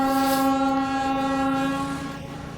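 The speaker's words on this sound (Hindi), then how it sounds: "इतना ग्रेसफुल लगता है ट्रेन का चलना देखना।" A train runs past at night with a loud, sustained horn-like tone and steady rumbling rail noise close by, slowly fading toward the end, with no voices.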